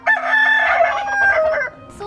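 A rooster crows once, loud and close, in a drawn-out call among chickens, with no voices around it.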